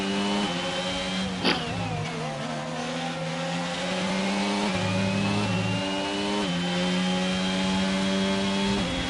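A racing car engine in a sim racing video game at the Belgium circuit holds high, steady revs with rising and falling pitch through gear changes. It stays loud and continuous, with a brief thump early on and no talk.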